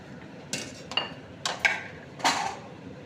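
Ragi and maida biscuit dough being cut into pieces on a hard surface, a few short scraping clinks and taps spaced irregularly, close and fairly quiet with no talking.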